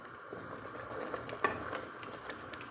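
Red onions being stirred in a pan for an Ethiopian split pea alicha, giving a faint, steady scraping and soft sizzle with one sharper clink near the middle, no voices.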